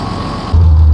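A tractor engine in the video game Farming Simulator 19 rumbles into a loud, deep, steady drone partway through, with no talk.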